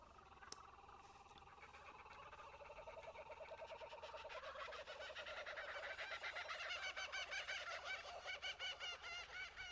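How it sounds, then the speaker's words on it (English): A chorus of geese honking from the Untitled Goose Game trailer, rapid repeated calls swelling louder and denser, heard faintly at a distance. "Oh, Untitled Goose Game,"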